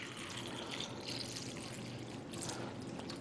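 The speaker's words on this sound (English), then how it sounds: "we're just going to simulate that by pouring some tap water in here." Tap water is poured over tomatoes in a bag, a steady close splashing rush that continues evenly throughout without talk.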